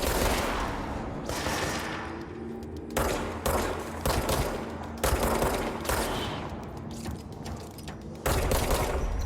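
Bursts of rapid gunfire from an enemy in the video game Control, a dense, loud fusillade that cuts in and out in several volleys over a steady low drone.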